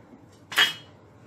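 A metal utensil clinks once against a dish while pav bhaji is being served, a single sharp bright knock with a short ringing tail in an otherwise quiet kitchen.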